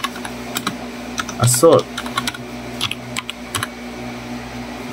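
Keys clatter on a computer keyboard as a folder name is typed, short bursts of close clicks with a brief louder flurry, under someone speaking.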